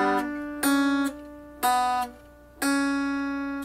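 A mountain dulcimer strummed four times with the third fret left unfretted, each strum ringing bright and sustained before the next, close and clear with no talking.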